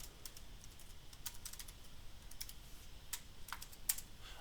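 Password being typed on a computer keyboard while installing Debian Linux on Windows 11: soft, irregular key clicks scattered across a few seconds, fairly quiet and close, with no talking.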